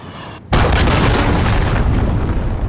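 A cruise missile detonates in the Call of Duty Modern Warfare video game, a sudden massive boom that erupts after a brief quieter moment and rolls on as a loud, dense rumble without fading.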